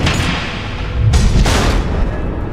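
Missile explosions in the video game Batman: The Enemy Within: a dense, rumbling roar of heavy blasts that swells and peaks midway, loud and close, with no voices over it.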